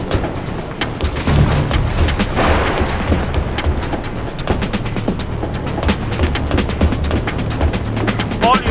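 Battlefield 2: Modern Combat on PS2: dense gunfire mixed with heavy booms and explosions, a continuous loud battle din with rapid cracks throughout.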